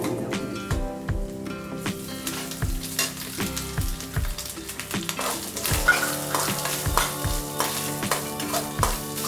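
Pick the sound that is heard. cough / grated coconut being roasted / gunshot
grated coconut being roasted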